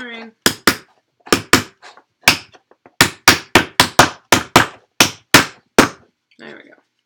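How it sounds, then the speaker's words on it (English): Hammer blows while building a Broken Token organizer: sharp, loud strikes arriving singly and in quick bursts, about fifteen in all, with short pauses between groups and a brief murmur at the end. "Hammering."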